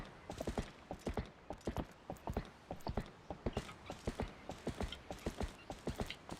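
Horse hooves in Zelda: Twilight Princess clip-clop in a steady, brisk walking rhythm, crisp and close, about three strikes per second with no talk.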